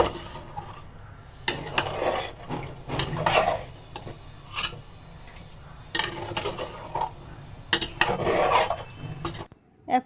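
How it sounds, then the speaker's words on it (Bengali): Chicken being stirred in a cooking pot, with repeated scraping and clattering strokes of a utensil against the metal, close and fairly loud, in uneven bursts with brief pauses between them. "চিকেনটা দিয়ে দিয়েছি। এরপর বেশ খানিকক্ষণ ধরে এটাকে নাড়াচাড়া করতে হবে ভালো করে"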